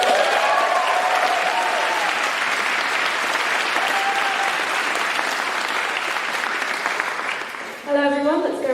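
Applause and cheering from a primary school audience fill a partnership event hall, loud and sustained as a dense close roar that fades slightly before a voice cuts in at the end.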